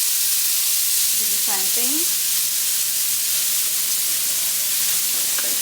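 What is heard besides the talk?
seasoned steak searing face down in hot steak fat oil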